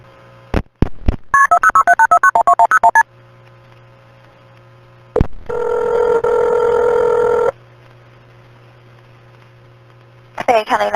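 A phone line dials out to place a call back, with a burst of rapid dialing tones, a steady tone held for a couple of seconds and a low mains hum underneath, loud and clear.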